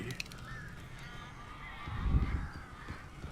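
Honking, goose-like bird calls inside a house in the game Alan Wake, a steady flapping and squawking bed that swells loudest midway, with faint voices mixed in.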